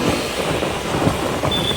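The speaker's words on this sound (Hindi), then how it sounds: "हल्की हल्की बारिश का मौसम हो रखा है, तो बारिश पड़ी रही है, बूंदें पड़ रही हैं" Light rain falling steadily, a soft, even hiss of drops pattering close by with a low, constant rumble underneath and no voices.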